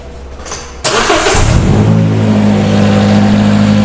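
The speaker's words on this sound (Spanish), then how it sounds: "ahí Juan le va a dar marcha al vehículo" A car engine cranks briefly, catches, and settles into a loud, steady idle hum close by. The start comes during spark-plug coil signal testing. No one talks.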